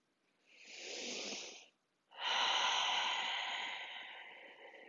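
Two long, airy breaths close to the microphone during a yin yoga session, a breathy inhale followed after a short pause by a longer, slowly fading exhale.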